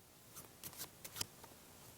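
A deck of playing cards being shuffled off by hand during a card magic demonstration, a few soft, quick riffles and snaps in a quiet room, faint and close.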